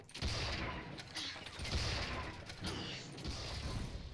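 In the video game Tribes: Vengeance, turret gunfire rattles in a dense, continuous barrage with sharp repeated bursts over a steady roar, faint overall and without speech.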